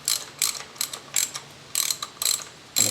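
A ratchet tightens a new spark plug on a Mazda Protege engine, clicking in quick bursts of sharp metallic ticks, loud and close, with short pauses between strokes.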